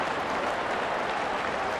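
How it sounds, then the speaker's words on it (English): Baseball crowd at a Pirates home game against Milwaukee applauds a Pirates hitter completing the cycle, a dense, even wash of clapping and cheering from a large stadium audience, sustained without pause. "the crowd appreciates his effort"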